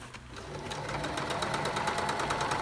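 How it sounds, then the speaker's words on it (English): A sewing machine runs steadily, stitching the band at the bottom hem of a jacket, its rapid needle rhythm close and continuous after a brief quiet start. "So I'm going to stitch it in half from the bottom"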